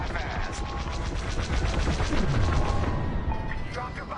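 Bombs explode on the core in the Squadron video game as a dense, loud wall of rumbling blasts and metallic clatter. The sound is continuous and layered, with a descending tone sweeping through the middle.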